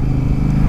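A Honda Africa Twin motorcycle being ridden along a road, its engine a steady low drone with wind rumble, close and continuous without a break.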